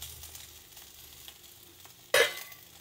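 Spice mix tipped into a pan of frying ivy gourd (kunduli) sets off a sudden loud sizzling burst, which flares up then settles into a quieter frying hiss.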